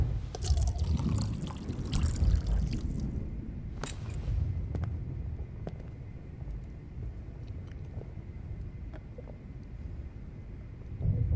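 Water pouring into a glass in the video game Life Is Strange, a steady liquid trickle running for several seconds under a low background hum, moderately loud and without talk.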